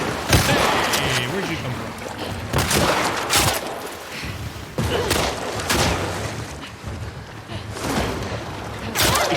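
Gunfire in The Last of Us Part II video game, sharp irregular shots and bursts cracking close by amid scuffling movement, with a voice briefly speaking between shots.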